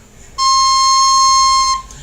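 A single clear, high C note on a Chancellor recorder rings out steadily for over a second, then stops.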